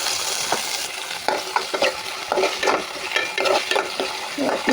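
Tomatoes with onions frying in hot oil in a pan while being stirred, a steady sizzle broken by repeated scraping strokes of the spoon, close and clear with no talking.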